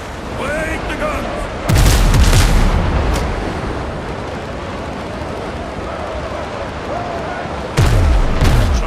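Ship cannons fire in Windrose, two heavy booming broadsides several seconds apart over a steady background of sea and ambient noise.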